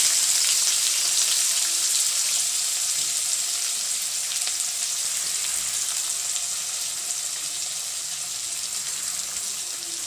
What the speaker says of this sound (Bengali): তাই আমি এই তেলের মধ্যে এবার আমি বেরেস্তা তৈরি করব। তার জন্য আমি পেঁয়াজগুলো ছেড়ে দিলাম।